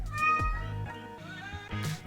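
A pet cat, a female named Brownie Bear, meows repeatedly from inside a carrier on the way to the vet, several loud, close, drawn-out cries in a row with no talking.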